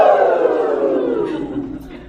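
Mourners at a eulogy let out a loud, high-pitched collective cheer, a sustained group "woo" that slowly falls in pitch and trails off over about two seconds.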